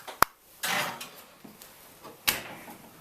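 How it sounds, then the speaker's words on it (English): Dish going into a kitchen oven: a sharp metallic clank, a scraping slide of the dish, then a second loud clunk as the oven door or rack shuts, close by with no talk. "better get this in the oven or there'll be no lunch"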